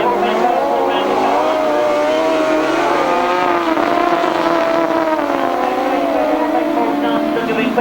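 Motorcycles race in a 1992 grasstrack event, their engines roaring together in a steady, loud wail that rises and falls as they round the corner, with a commentator talking over the noise.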